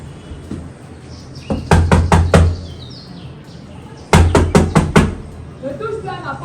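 Hard knocking on a house door in two rapid bursts of about five sharp raps each, close and loud, with a voice speaking faintly around them.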